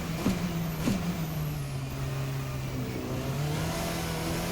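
A Formula RSS 4 race car engine in a racing sim video game drones steadily under acceleration, its tone settling and then slowly climbing again, continuous and fairly loud with no other sounds.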